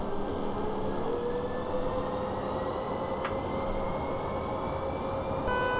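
A DB BR111 electric locomotive runs in Train Simulator on the Munich–Garmisch route, giving a steady loud rolling rumble with a faint rising electric motor whine and a brief high squeal, with no talk.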